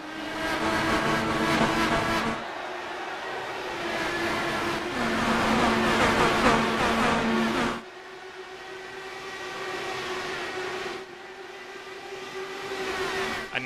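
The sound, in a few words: race cars starting IndyCar race at Kentucky, likely sim racing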